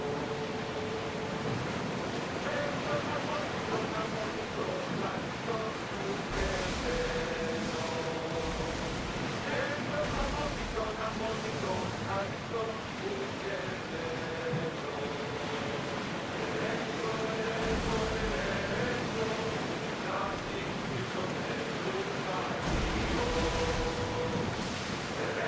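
Stormy sea and wind around a sailing ship in Assassin's Creed Odyssey, a continuous broad roar of surf and gusts with swelling waves, steady throughout, with faint voices underneath.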